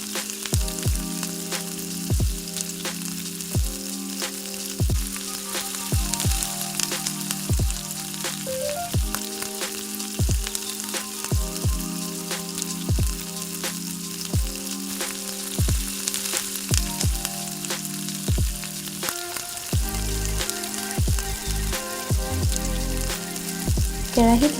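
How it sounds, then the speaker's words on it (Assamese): Ground sesame seeds frying in a pan, a steady close sizzle and crackle running throughout with faint scraping or stirring clicks at intervals. "এতিয়া পিচি লোৱা তিলখিনি অকণমান সময়ৰ কাৰণে মই ভাজি ল'ম।"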